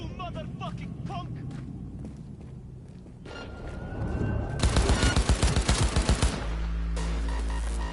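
Gunshots in the video game Cybernation 6, with a rapid burst of loud, evenly spaced shots in the middle after muffled footsteps and voices, then a steady low rumble.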